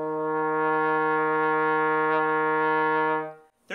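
A trombone sustains a single steady E flat in third position, a rich brassy tone held evenly for over three seconds before cutting off with a soft breath.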